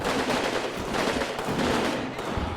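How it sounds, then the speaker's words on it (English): A grenade blast and gunfire in the WWII strategy game Combat Mission Normandy, a short dense burst of crackling shots and explosive rumble from mid distance. "that was a good grenade"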